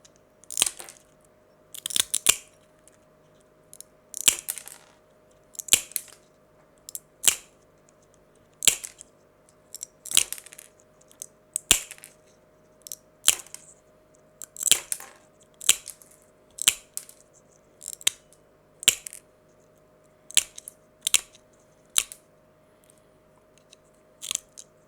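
Leponitt nippers snapping through glass mosaic tiles, a long series of sharp, crisp crunches and clicks at an uneven pace, close and clear with no talking.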